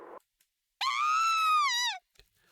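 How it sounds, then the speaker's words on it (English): In the video game Kamaitachi no Yoru, a single long, loud scream rises, holds for over a second and trails off, alone against silence after a brief earlier sound. "I heard someone scream."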